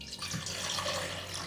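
Water poured into a small pot, a short close splashing trickle that starts quickly and keeps a steady flow, with no speech.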